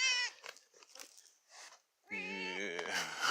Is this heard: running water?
no